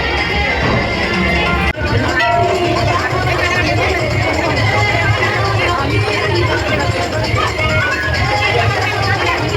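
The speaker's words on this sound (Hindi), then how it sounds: "इतनी ज़्यादा भीड़ हो रखी थी, बहुत ही ज़्यादा" A dense, loud crowd babble fills a Hindu temple on Janmashtami, many voices overlapping continuously with bustle and movement throughout.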